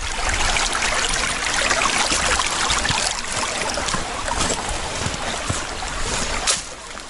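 Creek water flowing through woodland at Greenbo Lake, a steady, close rushing wash that carries on unbroken with a few brighter splashes and no talking.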